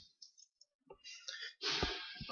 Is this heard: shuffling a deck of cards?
yes